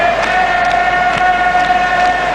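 A football stadium crowd during an Arsenal match gives a steady, broad roar with a droning tone running through it, loud and constant, with no single voice standing out.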